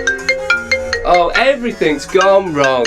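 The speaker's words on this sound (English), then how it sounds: "That's my phone going off." A mobile phone ringtone chirps in a run of short, evenly spaced tonal beeps, then a person talks loudly over and after it.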